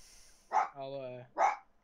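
A dog upset by fireworks gives two sharp, close barks about a second apart, with a strained whining tone between them.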